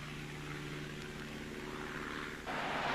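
A twin-turboprop OV-10 Bronco light strike counterinsurgency aircraft drones steadily with a low propeller hum and engine whine, growing slightly louder near the end as it passes close.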